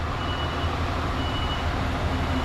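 A lorry's reversing alarm beeps steadily as it backs tight to a curb in Southport, the tones sitting over a loud, constant diesel engine rumble with no talk.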